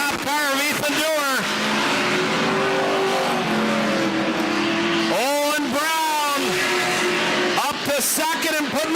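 Race cars circling a track at a Thursday night short-track event, engines rising and falling in pitch as cars pass close by, with loud continuous commentary over the top.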